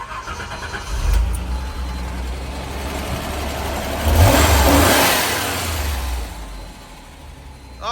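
A classic car engine, freshly fitted with a new battery, runs steadily close by, with a couple of rising revs swelling over an even idle and no voices.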